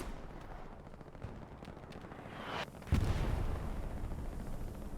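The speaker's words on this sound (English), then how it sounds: "Rockets." Rocket explosions in a World War II shooter on the Utah Beach map amid distant gunfire, with a rising whoosh and then a heavy close blast that leaves a rumbling roar, no voices.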